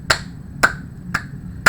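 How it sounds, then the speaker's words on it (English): Four sharp hand claps land at roughly half-second intervals, crisp and close, with a faint rubbing hiss between them. "A couple claps, some more rubs."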